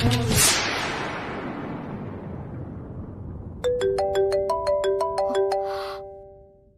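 An incoming call rings on a phone as a bright, steady melodic ringtone of rapid repeated chime notes, loud and alone after a fading whoosh, lasting a few seconds before cutting off.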